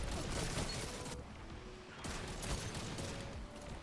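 The Fang of Ir Yut rifle in a video game, firing like an auto rifle: rapid shots in two sustained bursts separated by a brief pause, fairly faint with a dense rattling texture.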